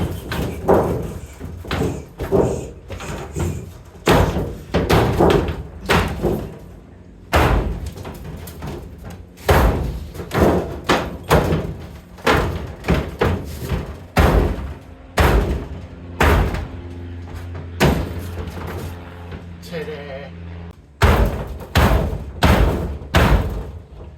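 A car door panel is stomped on to flatten it, sharp loud metallic thuds and bangs landing in quick uneven bursts, close and mostly alone with short pauses between volleys.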